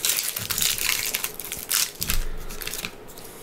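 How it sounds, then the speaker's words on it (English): Foil wrapper of a Magic: The Gathering Guilds of Ravnica booster pack being torn open, a string of crisp crinkling and crunching bursts, close and fairly loud, no talking. "But we'll crack this pack open."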